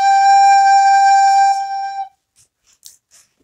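A soprano recorder holds a single steady G note, clear and bright, for about two seconds before cutting off into near silence.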